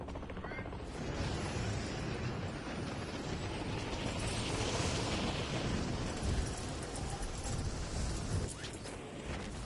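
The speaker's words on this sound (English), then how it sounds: "Rocket launcher." Rocket launcher blast in Warzone, a loud rumbling explosion with sustained roaring debris and mechanical noise filling the whole stretch, fairly dense and close, with players' voices mixed in.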